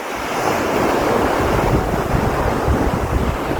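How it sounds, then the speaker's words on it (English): Sea waves rush steadily onto a beach, a loud continuous wash of surf mixed with heavy wind buffeting the microphone, with no voices. "the sea is fast approaching"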